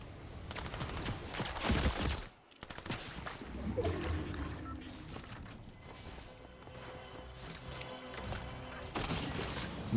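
Gunfire from a first-person shooter video game with no aim assist: dense rapid bursts and crackling shots at the start, then scattered shots and clatter over a continuous game soundscape, with faint speech mixed in.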